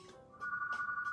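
A telephone rings with a steady electronic tone in repeated short pulses, moderately loud and close, and no one speaks over it.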